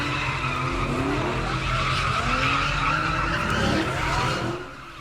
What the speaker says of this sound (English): They rip him from his vehicle, take it and start spinning donuts on the bridge.